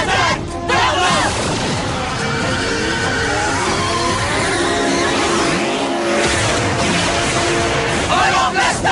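A car drifts with screeching tire squeal amid loud engine noise and busy action-show effects, sustained and dense throughout with a brief dip in the middle.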